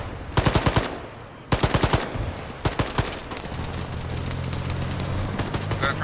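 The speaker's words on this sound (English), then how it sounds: "we're engaged by machine gun" Bursts of machine gun fire in the military video game Arma 3 crack out in rapid strings of sharp shots, several volleys separated by pauses, over a steady low background rumble.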